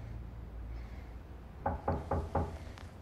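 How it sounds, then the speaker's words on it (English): Four firm knocks on a door in quick, even succession, close and distinct over a quiet room hum. "there's a knock on the door"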